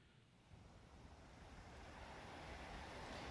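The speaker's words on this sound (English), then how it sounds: "the sound of the ocean waves floods his brain, just as it did before" Ocean waves wash in from the Arknights video game, a steady broad rush of surf that swells gradually louder over a few seconds, with no voices.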